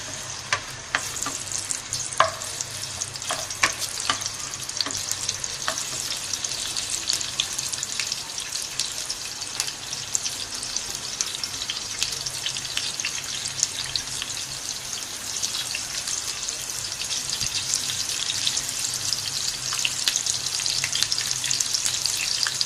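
Onions frying in ghee in a pan for a liver curry, a steady dense sizzle with occasional stirring clatter, close and continuous with no talking.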